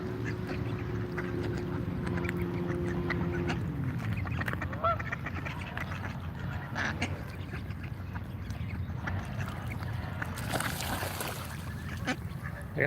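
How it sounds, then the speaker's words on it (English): Ducks squabbling outdoors in Washington, DC, with scattered quacks and honking calls over a constant rumble of ambient noise and a low droning hum early on. "We got some duck infighting going on."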